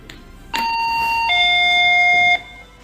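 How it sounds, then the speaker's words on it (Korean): A doorbell chimes at a front door, a clear two-tone ding-dong lasting about two seconds over faint background noise, with no voices. "지난밤 한 유튜버는 그를 응징하기 위해 집을 찾아가 초인종을 누르며 그가 나오길 기다렸는데요"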